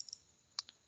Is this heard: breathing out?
no